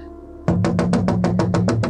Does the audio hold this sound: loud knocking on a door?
yes